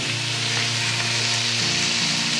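Bite-sized cubes of boneless chicken sizzle and fry in a pan for macaroni, a dense, steady hiss with a low hum underneath, loud and continuous throughout.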